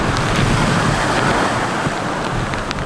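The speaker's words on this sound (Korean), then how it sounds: "거대한 파도가 도로를 덮치고" Huge waves from Typhoon Hinnamnor crashing over a coastal road at Haeundae's Marine City in Busan, a loud continuous roar of surf mixed with heavy wind buffeting.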